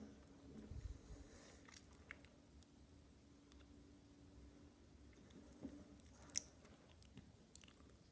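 Chewing on a Mexican cola-flavored gummy candy, with soft, quiet mastication and faint squishy bites running throughout, plus a sharper click near the end.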